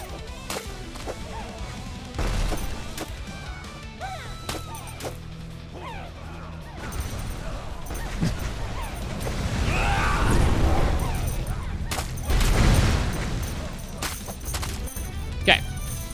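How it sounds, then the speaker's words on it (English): Many bombs go off in the survivor roguelike video game Aviorum, building into a dense, crackling barrage of overlapping blasts and crashes, with a person talking over the din. "That was a lot of bombs."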